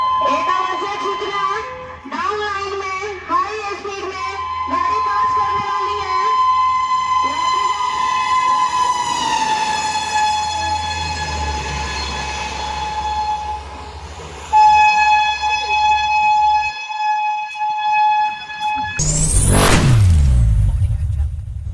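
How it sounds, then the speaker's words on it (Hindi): A high-speed train on a 160 km/h trial run thunders past with a loud, sustained horn blast and rushing wheel noise, building to a roaring close pass at the end. "160 किलोमीटर प्रति घंटे की रफ्तार से ट्रेन गुजरी।"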